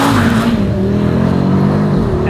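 A 2025 Audi RS3 sedan's engine drones steadily while driving, with a loud, sustained tone and a slowly shifting pitch, heard close and continuous without voices.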